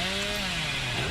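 The Hillbilly's chainsaw revving in the horror game Dead by Daylight, a loud, buzzing motor whine that holds steady and then dips slightly in pitch, heard alone.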